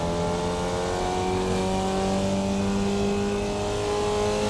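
A Formula Vee engine in the iRacing simulator drones loud and steady through a downshift, its revs rising and falling with clutch blips and no voices.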